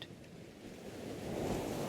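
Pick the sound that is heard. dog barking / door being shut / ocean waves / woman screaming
ocean waves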